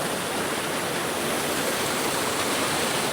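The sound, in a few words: waterfall on Tryfan North Ridge hike, Wales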